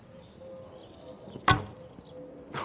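An arrow loosed from an AF Archery Tatar takedown laminated bow gives one sharp, loud snap and thump from the string, close by. A fainter knock follows about a second later.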